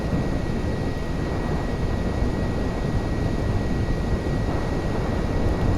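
A propeller airplane engine drones steadily in the Kerbal Space Program game, flying at high altitude. It is a loud, continuous broadband roar with no pauses and no voices over it.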